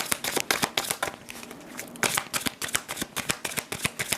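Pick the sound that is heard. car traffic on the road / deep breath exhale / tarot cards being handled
tarot cards being handled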